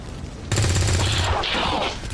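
Burst of rapid gunfire from a squad firing in the XCOM 2 strategy game, starting abruptly and rattling loudly for about a second and a half before tapering into lighter shots and effects, with faint speech underneath.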